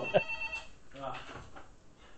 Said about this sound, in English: That's just a phone.